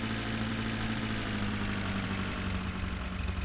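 A vehicle engine idles steadily on a steep road in The Long Drive, a constant low droning hum with no talk.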